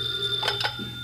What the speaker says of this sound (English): Oh, it's only the phone.